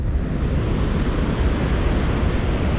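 Sea waves splash and wash steadily on a shore during April sea bass fishing, a loud continuous roar of surf with wind noise on the microphone and no talk.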